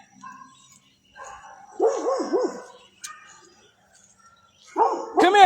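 A dog named Prince barks and yelps several times at close range, in short bursts, with brief quiet gaps between them.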